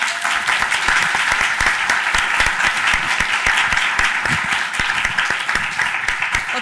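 An audience claps steadily and loudly to welcome a speaker at a law school event, dense sustained applause filling the room without pause.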